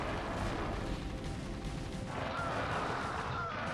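Siege tanks firing in StarCraft Remastered, a steady wash of distant booming artillery and explosions blending into continuous loud battle noise with no clear gaps.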